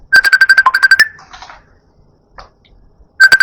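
A phone notification ringtone plays as a quick run of bright, evenly spaced chiming tones, stops for a couple of seconds of near silence, then starts again near the end.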